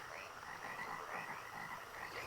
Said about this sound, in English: The frogs.